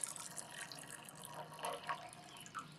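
Water drips and trickles from wet wool fiber lifted out of a red alder cone dye bath above a bucket, a soft, close, irregular pattering and splashing with no voices.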